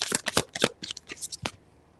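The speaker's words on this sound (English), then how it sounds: "I didn't mean to shuffle this deck though" A deck of oracle cards being shuffled by hand, with a quick run of close, crisp riffling flutters followed by a few softer card slaps, and no talking.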